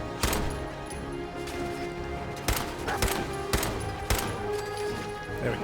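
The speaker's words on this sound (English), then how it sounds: "just shoot this guy like normal" Pistol gunfire in the game Fallout 4: about six sharp single shots spaced irregularly over a low rumbling game background, each a loud crack with a short tail.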